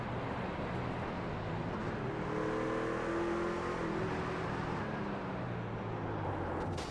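Truck engines revving hard in a sim racing truck series race at Daytona, a continuous loud roar with rising whine as one truck accelerates into another amid a pack of cars.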